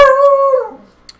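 A dog howls close by in a drawn-out, tonal wail that slides downward and fades into a soft whimper, ending with a faint click, with no talking over it.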